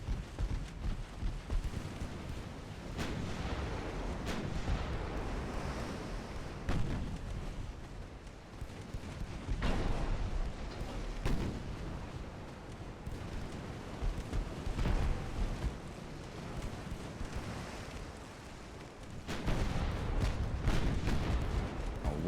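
Naval gunfire in the Ultimate Admiral: Dreadnoughts game, a pre-dreadnought-era German battleship's main guns booming in repeated heavy blasts over a constant low rumble, loud and dense throughout.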